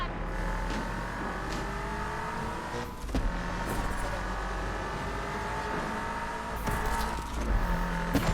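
Race car engine in a Need for Speed video game, a steady droning hum with slowly shifting tones at the start of a race, moderate loudness and continuous.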